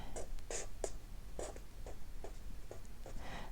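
Pen strokes on paper while handwriting the Japanese kanji radical ame (rain), a series of short, close scratchy strokes with brief pauses between them, quiet and alone.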